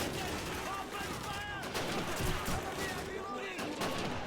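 Call of Duty 2 battle soundscape with Mosin Nagant rifle gunfire: a steady wall of shots and blasts running continuously, fairly loud, with voices mixed in underneath.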